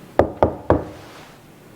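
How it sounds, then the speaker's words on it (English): Three sharp, evenly spaced knocks on a door, close and loud, ring out in a quiet hospital bathroom before silence settles. "A knock interrupts her thoughts."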